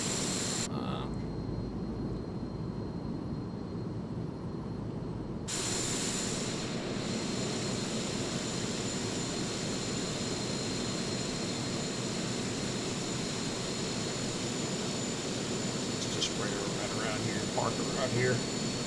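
Black Square King Air turboprop engine in Microsoft Flight Simulator 2020, a steady loud mechanical drone holding throughout with a brief shift early on and faint talking over it.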